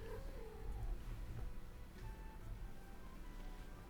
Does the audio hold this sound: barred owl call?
no